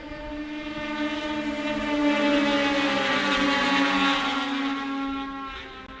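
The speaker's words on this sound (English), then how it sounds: "These machines using 600cc, mostly stock engines" Outlaw racing sleds with mostly stock 600cc engines whine past at a power toboggan championship, one sustained buzzing engine note that swells louder in the middle and fades slightly toward the end.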